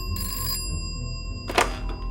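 An office telephone rings with a sustained metallic bell tone in two short bursts, close and clear, with no talk.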